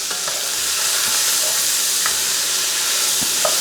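Cubed onion and peppers sear in lard over high heat for Cajun dirty rice, giving a loud, steady sizzle broken by a few soft clicks and scrapes of stirring.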